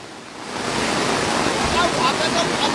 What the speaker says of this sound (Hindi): लगातार पानी का बहाव बढ़ता जा रहा है